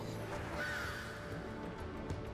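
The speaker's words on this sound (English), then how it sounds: "Bird." A bird caws in the Final Fantasy XIV video game, a single rough call heard close over a dense, continuous game soundscape.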